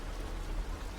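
Steady rain hisses as a dense, even wash of noise for about a second, with no voices and no separate drops standing out.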